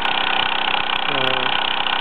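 A Bowman M175 toy steam engine runs under steam, giving a steady, rapid mechanical chuffing and whirring at an even pace that holds throughout, with a brief rising tone partway through.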